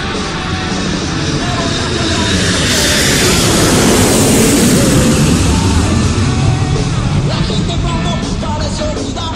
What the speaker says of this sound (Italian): ce ne andiamo all'aeroporto di Pudahuel a prendere l'aereo